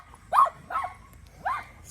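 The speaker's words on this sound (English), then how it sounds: "This dog is screaming." A dog barks three times in quick succession, close by and fairly loud, with short pauses between the barks.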